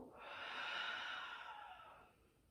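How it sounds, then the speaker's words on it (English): One long, deep exhale in yoga child's pose, a soft, close rush of breath that swells and then fades over about two seconds. "Exhale, breath out."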